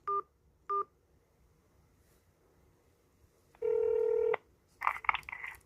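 Telephone keypad tones sound while a Korean election commission hotline number is dialed: two short beeps, a pause, one long tone, then a quick burst of several more beeps.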